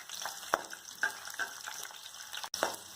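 Capsicum sizzling in a kadhai, a soft crackling fry with a few sharp stirring clicks and scrapes spaced out over a few seconds, quiet and close, no voices.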